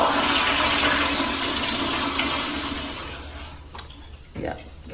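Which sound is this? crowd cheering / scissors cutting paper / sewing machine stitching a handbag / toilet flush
toilet flush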